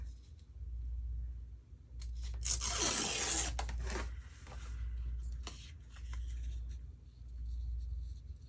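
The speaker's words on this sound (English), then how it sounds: "So I think I'm going to just see if I can rip this right here." Paper or journal material being ripped by hand during journal making, one close, bright tearing pass lasting about a second over a steady low room hum, with a few small handling clicks after.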